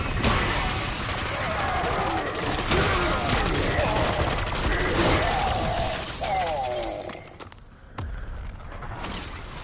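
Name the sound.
gunfire from the player's gun in Black Ops 6 Zombies video game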